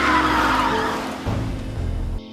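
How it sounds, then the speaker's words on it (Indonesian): A sedan swerves and brakes to a stop, its engine and tyre noise loud at first, then a low rumbling scrape of rubber on the road that cuts off abruptly as the car halts. "Tiba-tiba datang mobil sedan yang kita gak bisa sebutin mereknya karena gak di endorse, yang oleng lalu berhenti."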